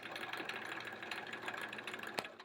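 A sewing machine runs free-motion quilting on a quilt-as-you-go sampler block, a fast steady mechanical chatter of needle strokes with a faint motor hum and a brief click near the end, no voices.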